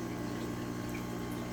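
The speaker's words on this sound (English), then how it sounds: "So now the outside filter stream of water is hitting the mop" Aquarium outside filter outlet pouring a stream of water onto a spawning mop in a Corydoras breeding tank, a steady close splashing gurgle without pause.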